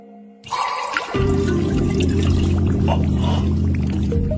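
Water magic in an anime pouring a steady stream of water, beginning with a brief splash and settling into a continuous close gurgling pour with trickles and drips, no talking over it.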